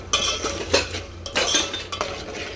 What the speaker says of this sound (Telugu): మంచిగా మిక్స్ చేసుకుందాం.